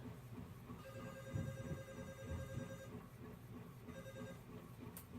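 A phone left in a room rings with steady tonal bursts over a low background rumble, moderately faint and without talk.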